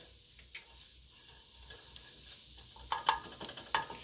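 Flour cooks in fat in a Dutch oven for a Reuben stew, giving a quiet, steady sizzle with soft stirring scrapes and a few sharp utensil taps near the end.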